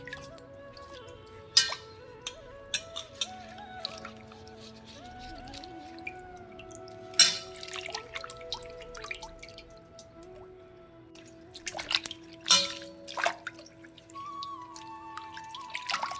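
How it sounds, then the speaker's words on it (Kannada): Leaves being washed and rubbed clean of dirt in water for a village-style pathrode recipe, with steady dripping and soft squishing splashes, a few sharper splashes standing out close by. "ಈ ಥರ ಎಲೆಗಳಲ್ಲಿ ಕೊಳೆ ಕೂಡ ಇರ್ತದೆ, ಅದನ್ನು ನಾವು ಚೆನ್ನಾಗಿ ಈ ಥರ ನೀರಲ್ಲಿ ಉಜ್ಜಿ ಕೂಡ ತೆಗಿಬೇಕಾಗ್ತದೆ"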